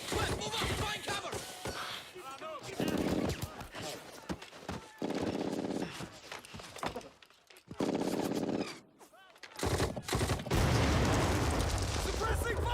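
Heavy battle gunfire from a Band of Brothers war scene: bursts of automatic fire and booming blasts that come and go over about thirteen seconds, mixed with shouting voices and brief quieter gaps.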